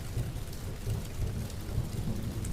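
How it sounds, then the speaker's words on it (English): Low rumbling thunder rolls beneath steady rainfall, a quiet and continuous storm bed with no voices. "Outside, thunder broke again, closer this time."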